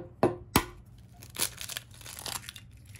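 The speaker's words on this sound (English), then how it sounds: "you're going to crack an egg into the bowl" An egg is cracked into a bowl while making keto chocolate chip pancakes: two sharp taps close together, then a softer crack and faint crinkling of shell, all quiet and close.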